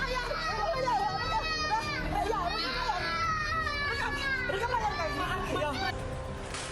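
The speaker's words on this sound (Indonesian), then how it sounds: "Dalam video saat live, korban sempat mengalami penganiayaan dan terdengar tangisan anak kecil." A small child cries and wails loudly and close by during a live stream of a woman being assaulted, with other voices audible in the background.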